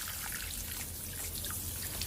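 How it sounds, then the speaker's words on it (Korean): A tap-water shower head sprinkles a steady, even shower over potted succulents such as Aeonium and salad bowl types in autumn, a continuous soft hiss of falling water close by with no talking. "근데 웬만해서는 물샤워기로 이렇게 줍니다"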